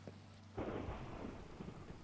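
Thunder rolls from a lightning strike in Minecraft, a sudden deep rumbling crash with rain hissing steadily after the opening low hum, loud and sustained with no voices.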